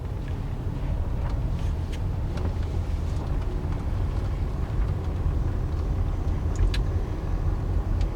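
A car rolls slowly to park at the roadside, its low engine rumble and road noise steady from inside the cabin with light ticks and faint rattles scattered over the drone.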